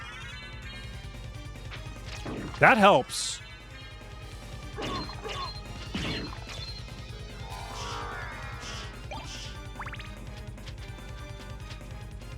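Wing smash attacks in Castlevania: Symphony of the Night, with one loud crashing impact followed by several fainter whooshing hits and game music running underneath; a person speaks briefly.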